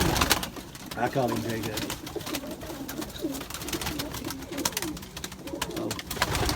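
Pigeons in a loft coo steadily, with low repeated throaty calls under a busy, noisy background. Someone talks over them briefly.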